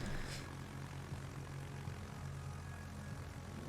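The propeller engine of a rocket scout plane in a naval video game hums faintly and steadily, a distant continuous drone with no talking.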